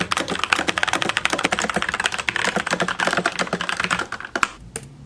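Fast, continuous clatter of keys on a computer keyboard, close and crisp, with irregular bursts of rapid strokes and no voices over it.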